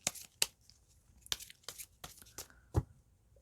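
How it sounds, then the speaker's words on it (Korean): Tarot cards being drawn and handled, a series of sharp papery snaps and swishes spaced irregularly over a quiet background, close and fairly soft. "그럼 3번 여러분들의 추가 카드 뽑아보도록 할게요"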